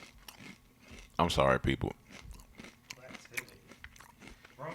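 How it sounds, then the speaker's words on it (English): Loud crunching while eating comes close and sharp in a short burst of crisp bites, mixed in among people talking. "Oh, that crunch is loud."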